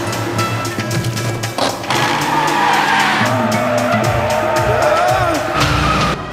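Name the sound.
car skidding and flipping through the air in a crash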